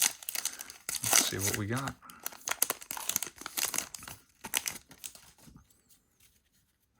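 Foil wrappers of 2021 Topps Heritage baseball card packs crinkle and tear in loud, close bursts of crackling that taper off, with someone talking over the ripping.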